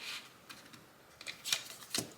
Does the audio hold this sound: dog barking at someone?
no